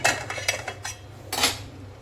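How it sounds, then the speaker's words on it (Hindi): A ladle scrapes and clinks against a pot of biryani in a handful of quick metallic knocks and scrapes over about two seconds, close and fairly loud, with no voice. "तो इसमें एक बार कलछी फिरा देती हूँ।"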